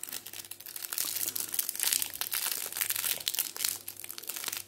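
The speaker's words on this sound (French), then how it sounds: "Si évidemment j'arrive à ouvrir le sachet." Close crinkling and crackling of a Magic: The Gathering Ikoria booster pack's foil wrapper being worked open, with dense irregular rustles and small tearing bursts and no voice.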